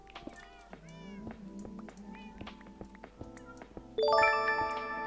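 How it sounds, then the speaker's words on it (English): A cat meows several times over background music, rising and falling cries spaced irregularly between soft clicks and tones, with a brighter chiming burst near the end. "The cat meows kind of link up with the music"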